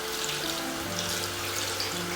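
Tap water runs steadily into a sink and bowl while a makeup brush is gently rinsed, making a constant close splashing hiss with no talking.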